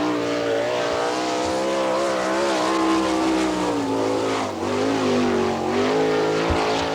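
A winged sprint car, number 13 on a Schnee chassis, roars through a qualifying lap at Attica, Ohio, its loud, sustained engine note rising and falling steadily through the turns.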